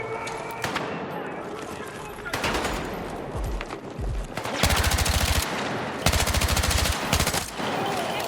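Rapid automatic gunfire and repeated gunshot bursts in the Battlefield 6 campaign, loud and close, arriving in several sustained volleys with brief gaps, under faint game background noise.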